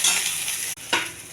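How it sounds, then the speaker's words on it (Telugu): Coriander leaves sizzle and rustle in a dry pan with no oil as they are stirred, a soft steady crackle with a brief pause and then a scraping stir. "కొంచెం కొత్తిమీర అండి, అందులో నూనె వేయద్దు. ఇది కొంచెం దోరగా వేగాలండి"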